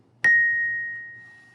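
A single bell note, B flat, struck once for Hot Cross Buns, rings out clearly and loud, then decays slowly into a long, fading sustain.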